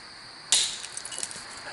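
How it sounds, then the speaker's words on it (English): A single sharp, bright clink as a stone strikes flint while knapping a preform, rising suddenly out of quiet and ringing briefly before fading. Small faint scrapes and taps follow, close by. "Did you hear that? I thought it was a nice clink."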